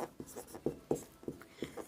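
A pen scratches on paper while working through a class 10 math equation, with steady strokes and soft taps repeating at a quick, irregular pace, close and quiet, with no talking over it.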